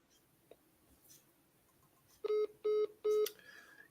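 Telephone dialing tones: three loud, evenly spaced electronic beeps in quick succession, preceded by faint low background murmur and small clicks, with a quieter tone trailing after.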